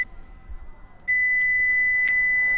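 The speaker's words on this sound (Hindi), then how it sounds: "इसकी बीप चलनी शुरू हो जाएगी, हल्की हल्की सी बीप आनी शुरू हो जाएगी" Lite AP sector device emitting its alignment beep, a steady high-pitched electronic tone that starts faint, then sounds continuously and clearly after about a second, with a brief brighter blip near the end.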